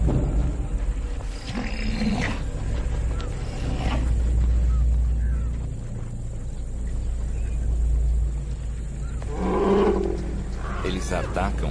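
A tiger in the wilds of India roars in deep, rumbling bursts, with a low growling roar near the start and another near the end, over steady low ambience.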